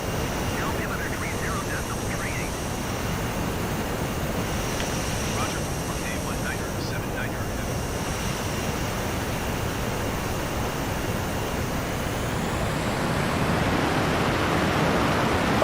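An F-22 Raptor jet flying over Kiev in Microsoft Flight Simulator on Xbox Series X gives a steady, loud broadband roar that holds throughout and swells slightly toward the end.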